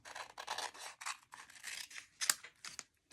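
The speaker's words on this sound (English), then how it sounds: "I'm just going to cut a piece of this, same size as my cardstock." Scissors snipping through a sheet of vellum to match a cardstock panel, a quick run of crisp, close cuts with short pauses between strokes, no talking.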